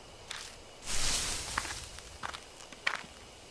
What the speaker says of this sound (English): there are footsteps close by from the bushes